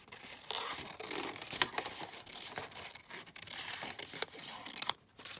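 Scissors snipping a paper butterfly out of a page for a beginner's junk journal, giving close, soft crinkly cuts and rustles in an irregular rhythm with no talking.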